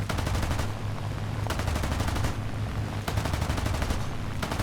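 Sustained machine-gun fire from a P-40 fighter plane in a World War II air-combat video game, dense rapid bursts rattling on for several seconds with only brief pauses between them.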